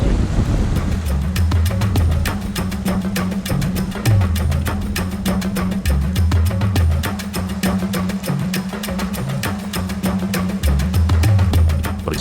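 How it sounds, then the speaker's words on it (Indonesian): A stream out in the hills gives off a steady, continuous rushing wash of rippling water, fairly loud and unbroken throughout, with a faint regular ticking running through it. "Suara riak air mulai terdengar samar di telinga"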